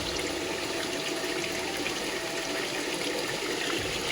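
Water runs steadily at a village spring in Uttarakhand, a continuous close rushing and splashing flow that stays even and fairly loud with no talk.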